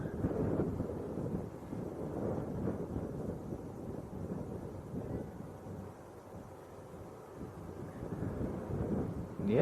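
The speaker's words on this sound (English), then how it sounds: "It's not mega windy, but it's certainly a stiff breeze" A stiff wind buffets the microphone at Leeds Bradford Airport, a continuous low rumbling roar that swells and eases across the whole stretch, with no talk over it.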